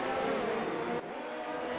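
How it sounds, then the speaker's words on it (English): Formula 1 race car engines roar steadily through Albert Park in Australia, a loud, continuous high-pitched engine drone that dips slightly partway through, with no talking. "you have the roar of the F1 engines"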